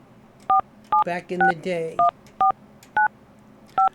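Telephone keypad tones beep one after another at a steady pace while a call is dialed, eight or so crisp two-note blips, with someone speaking briefly between them.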